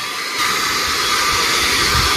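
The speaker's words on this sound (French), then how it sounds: "on va passer de notre côté ici un petit coup d'aspirateur balai avec le petit manche" A stick vacuum cleaner with a small nozzle runs steadily on a Dreame robot vacuum, a loud close whine that steps up slightly in intensity early on and then holds constant without speech.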